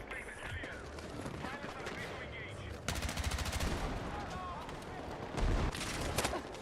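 Dense bursts of automatic gunfire and explosive blasts from a Battlefield 6 firefight, loud and continuous with a heavy boom near the end, mixed with faint voices in the background.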